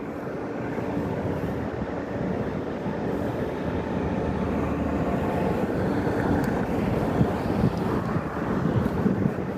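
Strong wind on Fremont Street in Las Vegas, a constant heavy rumbling roar buffeting the microphone, broad and unbroken for the whole stretch, no talk.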